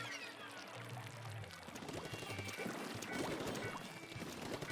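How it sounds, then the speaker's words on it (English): A splashing, pouring rush of water from a video game, loud and steady for several seconds as a character drops into the water, with bright clattering detail layered over a low background hum. "Why am I falling off in the water so much today?"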